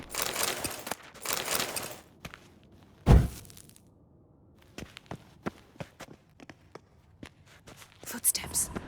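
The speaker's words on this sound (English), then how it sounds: "Footsteps." Footsteps in The Witcher 3: Wild Hunt, a series of soft, separate steps at a moderate distance with one heavier thud partway through, surrounded by faint whispery ambience and breathy rustles.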